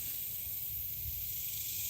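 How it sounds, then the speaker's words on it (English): A lit camp stove gives off a steady, even hiss that stays unbroken from start to finish, close by and fairly quiet, with no voices. "I've lit the campfire, the camp stove."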